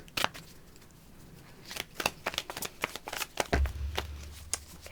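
Tarot cards being shuffled by hand at close range, a run of quick riffling flicks and soft card slaps in an uneven rhythm, fairly quiet, with a low hum entering near the end and no one talking.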